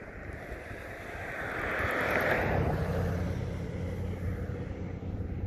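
Steady wind gusts outdoors during a muddy magnet fishing outing, a broad rushing roar that swells in the middle and holds, with no voices.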